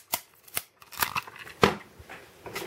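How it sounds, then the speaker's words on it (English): Scissors snip crinkly ends off a strip of sticky tape in a few sharp, close cuts, with light rustling of the tape between the snips. "I like to cut the crinkly little bits off the end"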